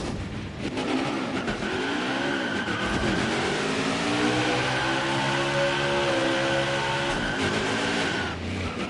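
Loud NASCAR Xfinity Series race car engine at Dover Motor Speedway, revving hard and steadily throughout a burnout, with rising and falling pitch sweeps and a constant roar and no talk.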